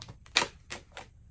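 Tarot cards shuffled by hand, heard as a few quick, crisp riffling snaps in an uneven rhythm, close and moderately loud with quiet gaps between.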